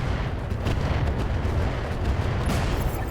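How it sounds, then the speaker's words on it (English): A dense, rumbling barrage of artillery explosions roars continuously in the RogueTech mech combat game, loud and close with overlapping booms and no talking. "we drop our artillery on the Ghost"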